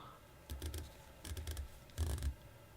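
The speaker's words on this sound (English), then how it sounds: "It has this awesome 120 click bezel." A 120-click bezel on a Helson Sharkmaster 300 dive watch being turned, giving three short bursts of rapid, crisp ratcheting clicks with brief pauses between them, close and fairly quiet.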